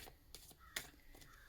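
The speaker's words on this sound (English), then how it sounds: "There's some crows going" Crows cawing outdoors, a few faint, distant harsh calls spaced irregularly, with one somewhat louder caw among them.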